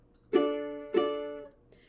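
Two soft, close ukulele strums of a barre chord on the 2nd fret, spaced about half a second apart, each ringing out and fading gently in a quiet room.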